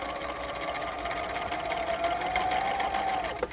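A sewing machine runs steadily while stitching coat lining, a close mechanical hum with fast needle chatter that holds for a few seconds before slowing with a small click near the end.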